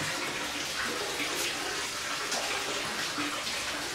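Water runs steadily into a bathtub while someone is being bathed at a shelter, a continuous broadband rush filling the space at close range with no talk.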